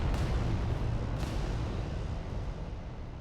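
A heavy, rumbling blast as a building is blown up in the Adeptus Titanicus video game, a deep roar with sharp cracks near the start that slowly trails off.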